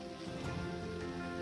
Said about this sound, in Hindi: हल्की हल्की बारिश हो रही है